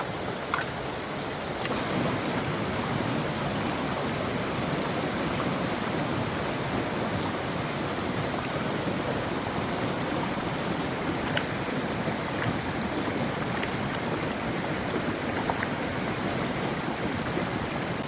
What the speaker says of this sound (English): So I'm going to take all that, wash it out in the pan